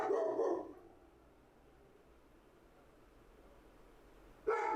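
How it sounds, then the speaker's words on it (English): A pet dog barks in a short burst, goes quiet under a low room hum for several seconds, then barks again near the end, fairly close and clear. "There's my dog."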